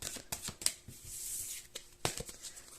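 Oracle cards being shuffled by hand for a tarot-style reading, a quiet series of soft riffling and flicking bursts with brief pauses between them.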